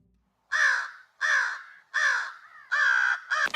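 A crow caws five times in a steady rhythm. The harsh, nasal calls are loud and close, each lasting about half a second, with short gaps between them.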